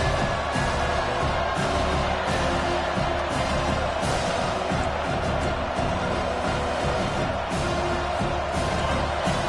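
A dense, continuous roar from a large American football stadium crowd during a timeout late in a tight first half, loud and sustained without a break.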